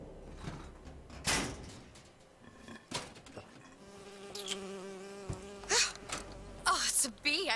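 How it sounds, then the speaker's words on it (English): Buzzing insect flying close by in BioShock Infinite, rising and falling whines over background game music and occasional thuds, with some speech mixed in. "Oh, it's a bee."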